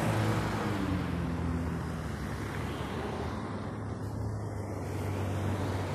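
Steady street traffic in Murmansk, Russia, with cars, trolleybuses and buses passing, heard as a constant low engine hum and road roar at moderate distance with no speech.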